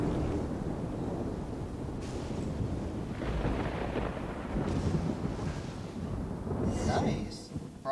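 Storm wind and rolling thunder rumble on in a video game, a loud, low, continuous roar that surges midway, with talk beneath it.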